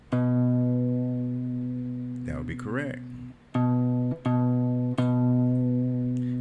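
A sustained low guitar note, played on the sixth string at the seventh fret, rings out and is struck again a few times, with someone speaking briefly over it in the middle.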